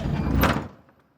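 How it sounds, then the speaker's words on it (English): A heavy door swings shut after a lever is pulled, giving one loud, close sliding rumble and thud that fades quickly into silence. "The door closes."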